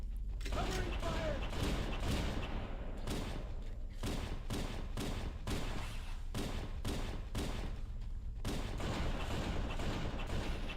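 Sniper rifle rounds crack repeatedly in Halo: Combat Evolved, a rapid series of sharp shots at irregular intervals with mechanical clatter between them, loud and close amid ongoing game battle noise.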